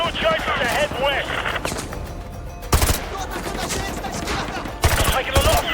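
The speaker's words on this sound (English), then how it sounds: "Taking a lot of fire from the militia." Bursts of militia automatic gunfire in the Modern Warfare 2 Remastered campaign, a market firefight with sharp close volleys and rattling fusillades, mixed with radio voices and game effects.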